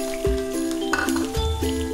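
Soybean chunks dropped into hot oil with cumin seeds and green chilli, giving a steady close sizzle with bursts of crackle and a few metallic clinks against the pan.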